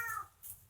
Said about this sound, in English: Let me show you the big cat.